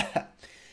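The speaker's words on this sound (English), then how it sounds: "He coughed and spat on all of the dragon's treasure." A single sharp cough from a storyteller near the start, followed by a softer throat-clearing burst, then quiet.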